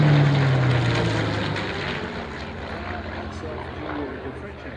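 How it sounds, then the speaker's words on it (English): A World War I aircraft flies a display at Duxford, its engine drone loud at first and then fading to a steady distant hum, with talk over it. "the World War I aircraft is still displaying"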